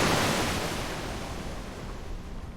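River water rushes in a video game, a loud, steady broadband roar that eases slightly over a couple of seconds, with no talking.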